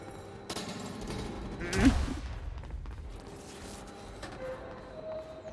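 A semi-auto shotgun fires in the video game Quantum Break, one loud blast standing out over quieter game noise and smaller bursts of gunfire around it.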